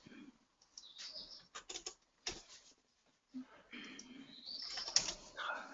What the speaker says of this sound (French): T'as les oiseaux tous les jours comme ça.